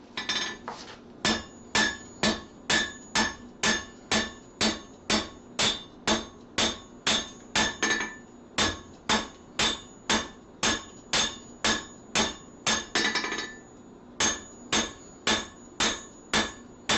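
A light hammer with an oversized handle beats repeatedly on metal in a homemade jobber power hammer fitted with a leaf spring, a steady, loud, ringing strike roughly once a second with a brief pause midway.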